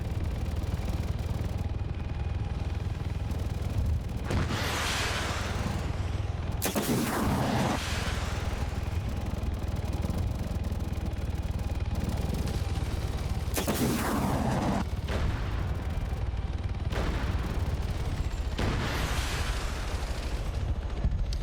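Video game turrets fire at jets in a steady, loud barrage, with repeated booming bursts and heavier blasts at intervals over a constant rumble that lasts the whole stretch.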